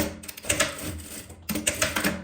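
Domestic sewing machine stitching a folded fabric scrap closed along its edge, two quick bursts of rapid mechanical clatter separated by a brief pause, close and moderately loud.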